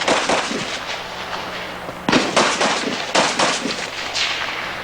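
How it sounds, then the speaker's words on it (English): Rapid volleys of Smith & Wesson gunshots ring out at a live shooting show, several sharp close bursts in quick succession with short gaps between groups. "Shooting in the corner."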